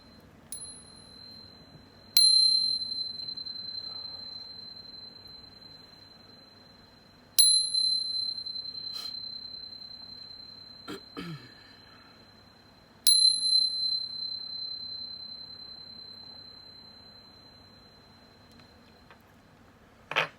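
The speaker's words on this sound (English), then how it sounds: "But first, let's chime." Bright metallic chime or bell struck four times at spaced intervals, each ring sustaining a long, slowly fading tone over a quiet background, with a brief soft clatter between strikes.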